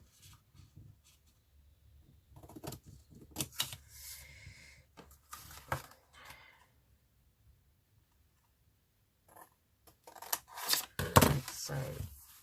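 Paper being cut with scissors while assembling a half-spine handmade journal, heard as close, dry snipping in separate bursts with quiet pauses between them and a louder flurry of cuts near the end.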